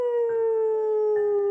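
A wolf howling, a single sustained tonal howl slowly falling in pitch, loud and steady throughout, with faint breathy texture underneath.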